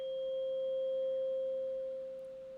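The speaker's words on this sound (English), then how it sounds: "I'm just striking this 528 hertz tuning fork" A 528 hertz tuning fork rings on as a pure, steady sustained tone, fading slightly at the end, with no talking.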